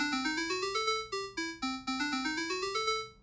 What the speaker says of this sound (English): instead of a saw wave, to a square wave